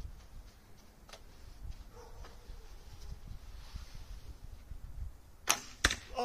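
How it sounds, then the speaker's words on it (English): An arrow strikes a target and clatters against arrows already lodged there, giving two sharp close impacts near the end over quiet outdoor background noise. "Oh man, you hear me hitting the other arrows?"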